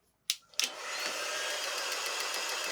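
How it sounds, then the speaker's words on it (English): A dryer blows on wet paint coated on a craft star, starting with two short bursts before settling into a steady, loud whooshing roar that runs to the end. "I'm going to dry that up and put on a second coat"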